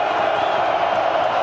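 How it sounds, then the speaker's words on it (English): A crowd cheers at a college football game between Rutgers and Iowa, a dense, steady roar that fills the stadium throughout, with no single voice standing out. "Crowd into it."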